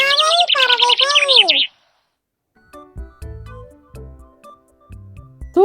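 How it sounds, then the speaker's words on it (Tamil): A lovebird lets out a loud, close burst of rapid high chirps and warbles, then falls silent before some soft low taps and clicks. "காதல் பறவைகள்."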